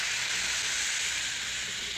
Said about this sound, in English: Turn up the steam, will you?